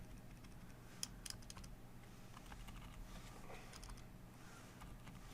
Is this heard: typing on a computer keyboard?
yes